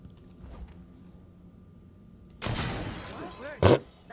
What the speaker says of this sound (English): Wrong button. Broken glass.